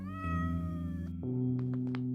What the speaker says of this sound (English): Oh, that one's got a low purr.